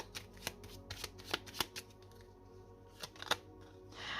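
Tarot cards being shuffled and handled to draw a card, a series of sharp papery riffles and flicks in irregular bursts, close up and fairly quiet, with no voice.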